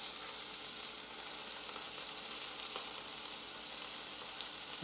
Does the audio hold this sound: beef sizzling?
yes